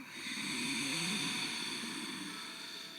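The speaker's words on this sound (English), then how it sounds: "Notice the exhale, it's audible." During a yoga class, a long steady exhale pushed through sealed lips makes a soft, breathy, snore-like rush that holds for about three seconds, close to the microphone, with no talking.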